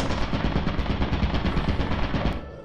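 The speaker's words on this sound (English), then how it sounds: "I hear gunshots." A rapid, continuous burst of video game gunfire, like a machine gun, rattles loudly and evenly for about two and a half seconds, then cuts off, with no voices.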